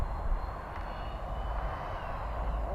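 A Freewing F-14 Tomcat radio-controlled jet flying overhead, its electric ducted fan giving a steady, fairly loud rushing whine that holds evenly without pause.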